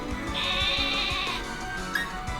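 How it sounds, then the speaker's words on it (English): A woolly sheep Pokémon, Wooloo, gives a game cry in Pokémon Sword, a sustained bright bleating tone lasting about a second over steady background game music. "Hop's Pokemon, Wooloo, the sheep Pokemon, a normal type."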